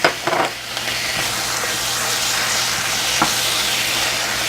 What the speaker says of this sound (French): Dès que votre oignon commence à rissoler comme ceci, hop, vous allez pouvoir mettre le poivron vert.